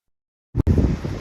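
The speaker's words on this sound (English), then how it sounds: "So I'm sorry about the wind" Gusty wind buffets a microphone outdoors on a Saturday night in Moscow City District, arriving as a sudden loud, rumbling roar after a moment of silence, briefly dropping out and then continuing steadily.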